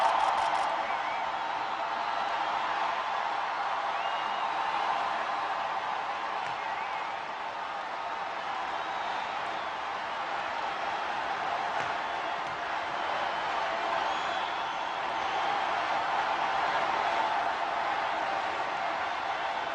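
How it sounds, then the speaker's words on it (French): A large crowd greets newly elected Pope Francis's first address with a dense, continuous wash of cheering and clapping that holds at an even level throughout. "Et cette fois, la foule donne de la voix."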